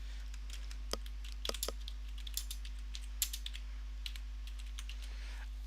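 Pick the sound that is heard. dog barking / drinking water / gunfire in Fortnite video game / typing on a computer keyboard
typing on a computer keyboard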